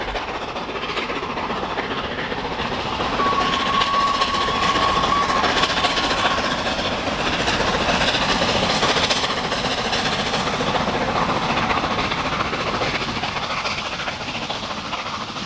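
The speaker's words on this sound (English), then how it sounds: "The long climb south from Westbury, pitching to 1 in 70, was to prove a useful test track for the rebuilt locomotive." Flying Scotsman, a rebuilt LNER Class A steam locomotive, working hard up a long steep climb south of Westbury, a loud, steady, rushing train roar with rhythmic clatter and a brief whistle-like tone, no voices.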